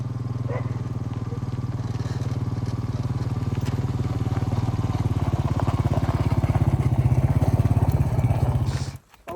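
An ATV four-wheeler engine drones steadily on a trail ride, a loud rough buzzing that holds nearly constant for about nine seconds, then cuts off abruptly at the end.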